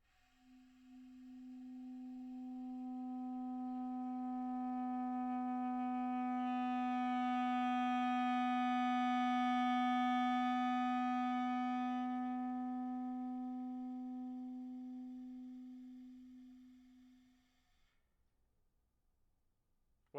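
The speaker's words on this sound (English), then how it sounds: "we're learning the low C sharp now. I'll do my usual little long tones on that note" Long sustained clarinet tone on low C sharp, held alone for about seventeen seconds, swelling from soft to loud and fading back to soft before stopping.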